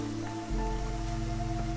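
Steady drizzle falls in Against the Storm, a soft, even patter under a constant low ambient drone and faint tonal music, with no talk.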